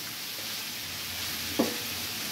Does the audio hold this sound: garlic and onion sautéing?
yes